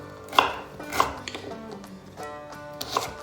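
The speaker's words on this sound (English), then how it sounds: "We're just going to roughly chop our ginger." A knife roughly chopping a piece of fresh ginger on a cutting board: three crisp, sharp knocks about half a second apart and then a pause, close and clear with no talk.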